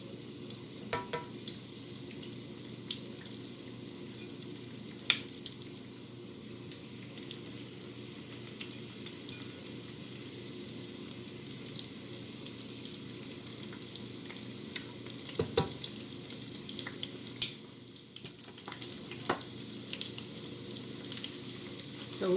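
Corned beef egg rolls fry in a hot pan with a steady, close sizzle, broken by a few sharp crackles and pops and faint scraping clinks, no voices.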